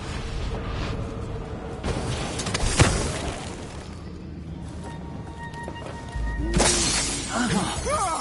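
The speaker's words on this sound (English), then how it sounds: "That sounded like broken glass" Glass shatters in the video game Dishonored 2, a sharp crash partway through amid game ambience, with a second bright burst later and voices speaking around it.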